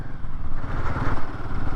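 A motorcycle rumbles along a rough off-road route toward Om Parvat in the Himalayas, its engine a steady, close, low chugging throb with faint clattering from the bumpy ride.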